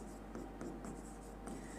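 A teacher writes on a classroom board during a biology lesson, producing quiet, continuous scratchy strokes in short bursts against a steady low background hum.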